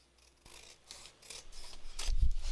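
Scissors snip through card for a craft project in several quick, close cuts, the crisp strokes growing louder and denser toward the end.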